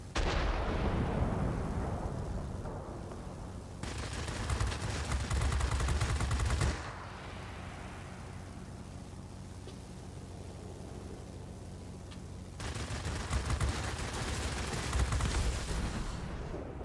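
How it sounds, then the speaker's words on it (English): Aircraft guns firing in World of Warplanes aboard a Reggiane Re.2005 Sagittario, loud sustained bursts of rapid gunfire in two long stretches separated by a lower engine drone, with no talking. "Guns firing off target after a turn."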